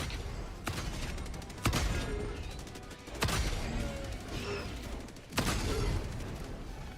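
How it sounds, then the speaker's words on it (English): Orbital strike barrage in the video game Helldivers 2: four loud, heavy blasts spaced over several seconds, each a sharp crack followed by a rumbling roar, over continuous battlefield noise. "Firing orbital strike."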